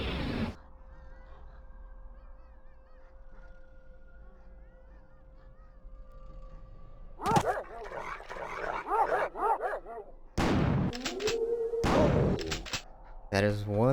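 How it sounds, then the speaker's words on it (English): An excitable dog in a video game barks in loud, rapid bursts near the end, after a quieter stretch of game ambience with a low steady tone. "That is one excitable dog."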